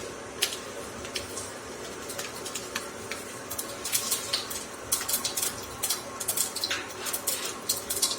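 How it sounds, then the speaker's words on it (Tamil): Mustard seeds hit a hot pan for pavakkai poriyal, giving an irregular spray of tiny ticks and pops that grows busier and louder over a steady low sizzle. "இப்போ கடுகு ஆட் பண்ணலாம்"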